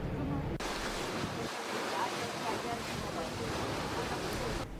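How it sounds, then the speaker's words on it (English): Ferry crossing Lake Como toward Como with a bicycle aboard at the front, giving a steady broadband wash of water and wind noise throughout, close and continuous, with a low engine-like rumble underneath. "I hopped on the ferry, and they gave my bike a front row view as we headed back towards Como"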